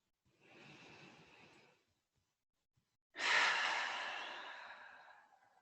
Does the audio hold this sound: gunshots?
no